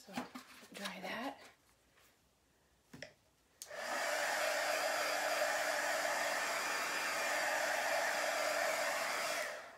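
A handheld hair dryer switches on and blows steadily for several seconds, drying chalk paste; someone talks briefly and something taps before it starts, then the motor's whine continues alone.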